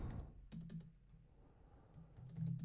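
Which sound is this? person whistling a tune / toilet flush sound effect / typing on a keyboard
typing on a keyboard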